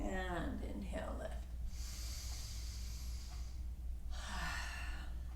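A deep, airy inhale during a yoga breathing exercise as the back arches and lifts, heard as two long, soft hissing breaths separated by a pause, close and steady under a low background hum.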